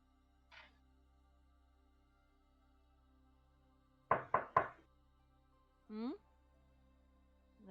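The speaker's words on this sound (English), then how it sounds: "Honestly, that was a really nice knock effect." Knock-at-the-door sound effect: three quick, loud raps in a tight burst, with faint speech from people before and after.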